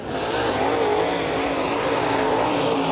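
Dirt track race cars, including a crate motor car, roar loudly and continuously around an oval during a heat race, a dense wall of engine noise from several cars with no clear gaps.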